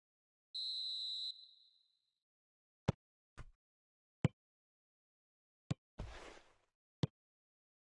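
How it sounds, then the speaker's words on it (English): A referee's whistle blows once, long and shrill, to signal offside in the PES 2021 football video game, followed by several sharp, isolated clicks and a short burst of noise. "Whistle goes again. It's another offside decision."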